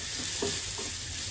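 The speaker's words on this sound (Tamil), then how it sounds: "So that will be the tadka for the Vandikaran Kolambu." A tadka of asafoetida and coconut sizzling in hot oil, a continuous soft frying hiss with faint stirring taps, moderately quiet and without talk.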